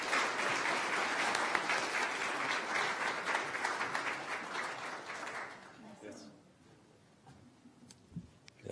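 Audience applause welcoming Grand Chief Alvin Fiddler of Nishnawbe Aski Nation at a formal announcement event: steady, dense clapping from a crowd that continues for about six seconds, then fades out into a quiet room.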